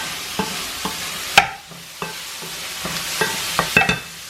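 Calamari tentacles dropped into a hot pan and frying, a steady sizzle broken by sharp clinks and scraping utensil strokes, close and fairly loud with no talking.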